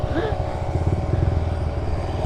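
Small engine of a mini bike revving and rumbling close by as the rider drops off a curb, a steady buzzing drone with a short squeal and a clatter near the start.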